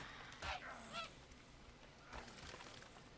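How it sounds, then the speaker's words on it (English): A seagull in the video game Ark gives a few faint, nasal honking calls: two quick ones close together, then another after a pause, over quiet background ambience. "that was just my seagull"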